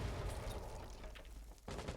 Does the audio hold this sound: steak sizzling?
no